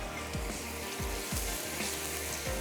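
Masala sizzles steadily in hot oil as it fries for a Punjabi langar-style dal tadka, a close, continuous crackling hiss with soft stirring scrapes and no talk.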